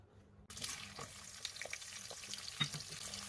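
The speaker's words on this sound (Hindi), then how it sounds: "इतने हमारी अनियंस हो रही है फ्राई।" Onions frying in hot oil in a kadai, a close steady sizzle that starts abruptly after a brief quiet moment, with faint stirring clicks and scrapes over the crackle.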